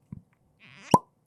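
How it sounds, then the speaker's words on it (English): A cork pops out of a bottle of Fireball Dragon Reserve whisky, one sharp, loud pop after a short squeaky twist of the stopper, with a brief soft voice just before. "It's a good cork pop."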